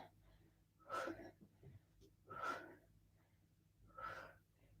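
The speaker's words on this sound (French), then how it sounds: "Allez, soufflez bien." Forceful exhalations during a morning bootcamp core-hold exercise, three hard breathy bursts roughly a second and a half apart, close and fairly loud over a low background hum.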